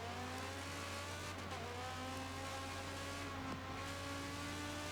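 Race cars corner and accelerate in the racing video game GT WorX at the Catalunya circuit. Engine whine holds steady and sweeps in pitch, with a faint tire squeal and no talking.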